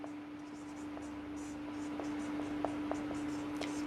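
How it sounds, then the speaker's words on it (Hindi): Marker or chalk writing on a board while a light source is labelled, heard as a series of faint, scattered taps and short strokes under a quiet room tone. "यहां पे लिख दे रहा हूं"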